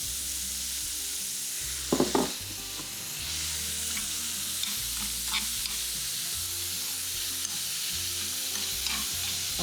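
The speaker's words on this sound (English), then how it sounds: "My prawns can go in." Big fat prawns fry in a hot pan with a steady, even sizzle, plus a brief clatter of stirring early on.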